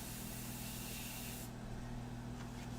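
Airbrush spraying India ink for a portrait painting, a steady close hiss of air that drops away partway through, over a constant low hum.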